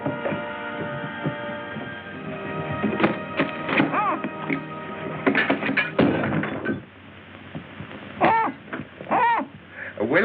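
Repeated hooting calls from an owl-like bird, several short hoots scattered across the scene over a low hum in an old film soundtrack, with people talking in between.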